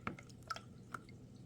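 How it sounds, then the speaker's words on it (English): Cloth soaked in a runny mix of water and wood glue gives off a few soft, separate drips and wet squishes, faint and close by, in an otherwise quiet room. "I'm going to dip my cloth into the water and glue, wood glue mixture"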